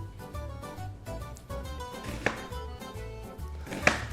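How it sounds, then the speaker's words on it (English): A knife cuts onions for caramelizing, topping for an Italian-style cheeseburger: two sharp, close chops on a cutting board, spaced well over a second apart, over steady background music with no talking. "this is the way that we've cut the onions in the past for the caramelized ones"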